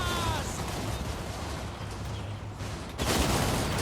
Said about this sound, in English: As they come up the hill here, they're going to be greeted with an absolute volley of rifle fire.